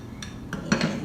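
A scoop clinks against a Snoopy bowl as homemade chili with green chili peppers, red peppers and salsa is served, giving a few light, close ceramic-and-metal knocks after a near-silent start.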